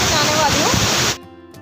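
Tiger Falls waterfall near Chakrata roars with a steady, close rush of splashing water that cuts off abruptly near the end.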